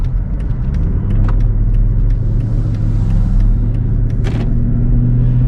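Steady low engine rumble and road noise from inside a 2001 Mercedes-Benz S430 under acceleration, with a couple of brief thuds from bumps, loud and close throughout.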